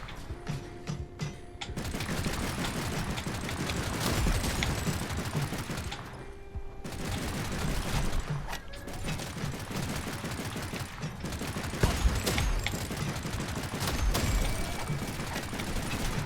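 Enemies fire guns in the video game Ball X Pit, producing a dense, continuous crackle of rapid shots with mechanical rattles that runs without a break.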